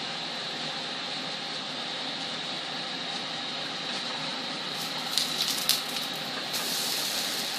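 Oil sizzles steadily in a pan while French toast fries, a constant broad hiss with a few sharp crackles and pops near the end.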